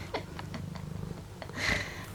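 A pet cat named Sunny purring steadily at close range, a low continuous rumble with soft rhythmic pulses, briefly rising in loudness near the end.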